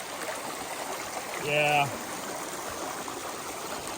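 Fast-flowing stream water rushes steadily over rocks, a constant broad wash at mid level throughout, with a brief spoken word partway through.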